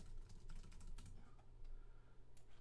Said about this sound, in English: I gotta type something real quick.